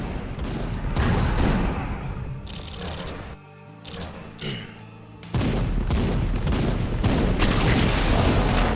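Homing rockets fire and explode in Age of Hell, a GZDoom-powered shooter, with loud rapid volleys of blasts and booms, a brief quieter lull in the middle, then the barrage resuming at full intensity.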